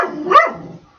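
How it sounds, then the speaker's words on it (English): A dog gives one loud, close bark that rises into a sharp yelp and fades out, with nothing else heard. "I have to keep him under control, otherwise he'll bark like crazy."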